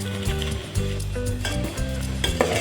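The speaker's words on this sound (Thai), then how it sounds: "ผมเอามาคั่วด้วยกันครับ นี่ครับ คั่วกลับไปกลับมาเลยนะครับ" Pounded chili paste sizzles and is stirred back and forth in a pan while being stir-roasted for a bamboo shoot and pork belly curry, a close, steady frying crackle with scraping stirs.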